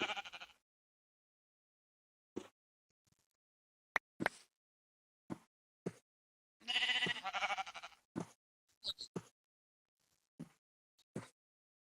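A Minecraft sheep bleats again and again in short, separate calls with quiet gaps between them, heard alone with no talk.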